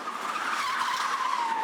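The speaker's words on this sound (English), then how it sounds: "John has to slide that car right up to a camera with 200 people watching" A stunt car slides with its tires skidding in a continuous high squeal that stays steady and fairly loud for the whole moment, with no other sounds around it.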